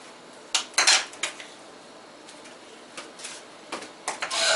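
Ground turkey chopped and scraped with a utensil in an oiled skillet: a handful of sharp metallic clinks and scrapes in irregular bursts, close and fairly loud against a quiet background, with no talking.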